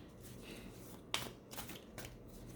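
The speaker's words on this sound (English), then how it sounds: "Let's pull one of these affirmator cards." A deck of affirmation tarot cards is riffled and handled close up, quiet papery ruffles broken by a crisp snap of cards and a couple of softer flicks in a brief burst.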